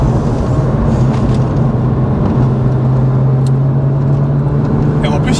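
A 2003 Porsche Boxster S (986) on an open road, its engine droning steadily and loudly from inside the car with a held pitch that rises slightly partway through, with wind and road noise around it.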